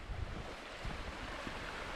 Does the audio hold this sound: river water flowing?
yes